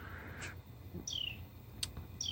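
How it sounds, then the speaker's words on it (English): Crow calls sounding outdoors, a few short harsh high caws spaced across the moment, moderately near against steady background noise. "excuse the bird"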